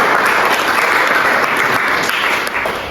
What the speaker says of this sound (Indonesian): Kita beri aplaus.